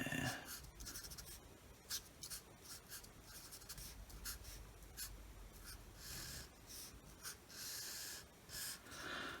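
A pen scratches across paper while drawing a diagram of a transistor, producing close, quiet, rhythmic strokes in short bursts with brief pauses between lines.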